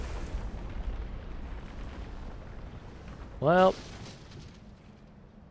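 A dam collapsing in the space exploration game Outer Wilds, heard as a deep, continuous rumble that slowly tapers off, with a single short spoken word over it.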